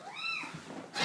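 A pet cat named Cherry lets out a single short, rising-then-falling meow nearby, followed by a soft thump.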